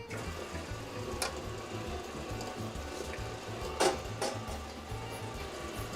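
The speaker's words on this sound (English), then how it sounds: "And then I put it in the machine here." A dough rolling machine runs steadily with a low, rhythmic mechanical churn while calzone dough feeds through its rollers, with a few sharper clicks and knocks partway through.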